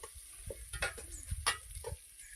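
A pan fries ingredients for egg biryani, producing a soft sizzle broken by a few sharp scraping stirs and clinks at uneven intervals, close and fairly quiet.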